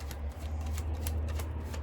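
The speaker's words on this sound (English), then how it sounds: "We'll start shuffling." Tarot cards being shuffled close up, a steady, continuous papery riffling and shuffling that runs for about two seconds with no talking.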